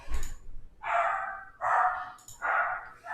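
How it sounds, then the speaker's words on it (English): A dog barks in three loud, drawn-out bursts about half a second apart, close by indoors, with a short yelp at the start. "The dog's gonna bark, but whatever."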